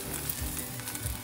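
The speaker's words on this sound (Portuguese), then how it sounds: "O azafrão preparou e a mamãe só tá fritando" An egg fries in a hot pan for an omelette, giving a continuous close crackling sizzle with small pops and no talking.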